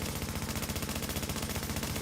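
Sustained rapid automatic gunfire from the video game The Division 2, dense and continuous with barely a pause, loud and close.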